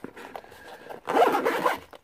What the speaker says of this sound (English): zip the case up